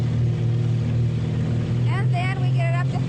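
A wooden motorboat cruises across a lake at speed, its engine giving a steady low drone throughout while a wind- and water-rushed hiss rides on top and a voice speaks briefly near the end.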